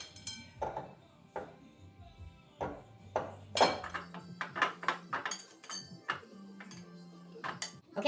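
Pie crust dough for an apple pie mixed by hand in a dish, with sparse clinks and taps against the dish and soft kneading sounds, close and fairly quiet, with occasional faint murmuring.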